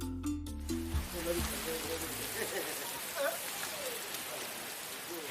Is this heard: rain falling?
yes